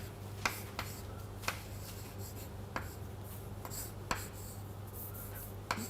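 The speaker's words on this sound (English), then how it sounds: "let us write it down." Chalk or pen writing out an equation during a physics lecture, a few sparse taps and short strokes over a steady low hum, close and fairly quiet, with no talking.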